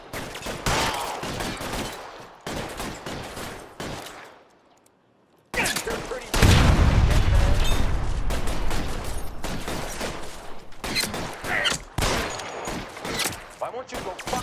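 Heavy gunfire from an L.A. Noire shootout, with dense bursts and rapid volleys that break off for a brief lull, then roar back loud and sustained while voices shout over the fighting.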